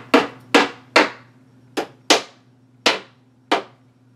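Seven sharp hammer taps set plastic screws into an IKEA Pax closet drawer, close and loud, arriving in an uneven rhythm with short pauses between strikes and a low steady hum underneath.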